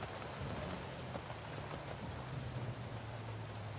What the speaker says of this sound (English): These storms be real.